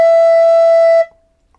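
A single low E note on a recorder is held for about a second, clear and loud, then cuts off into silence.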